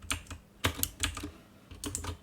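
Bursts of computer keyboard keystrokes come in quick clusters with short pauses, close and moderately loud, as someone types a short word into scriptwriting software.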